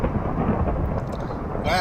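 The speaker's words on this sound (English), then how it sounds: "That was a big thunder." Big rumbling thunder in a Minecraft world running the FTB Infinity Lite modpack, a dense low roar filling the moment from start to end with a brighter crackle near the close, while a person talks over it.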